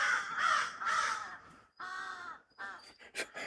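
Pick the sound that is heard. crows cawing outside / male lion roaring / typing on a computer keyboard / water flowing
crows cawing outside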